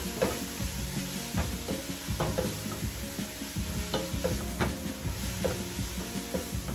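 Washed fumbwa (fungwa) leaves fry in a pan, a steady close sizzle broken by repeated scraping stirs of a utensil against the pan.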